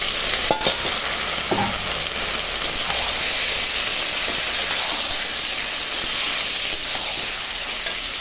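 Meat with spices frying and being stirred in a pan, a steady loud sizzle with scraping stirs throughout.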